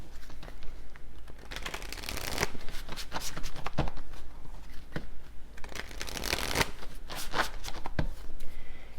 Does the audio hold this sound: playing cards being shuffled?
yes